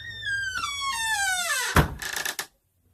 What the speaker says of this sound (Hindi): एक हल्की सी आवाज आई मेरे बेडरूम के बाहर से, दरवाजा बंद होने की आवाज।